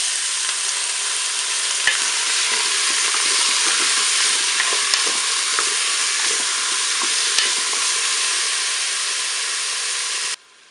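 Beef pieces browning in a Cookeo multicooker for boeuf bourguignon, a steady loud sizzle with occasional stirring clicks, close and continuous for about ten seconds before cutting off abruptly.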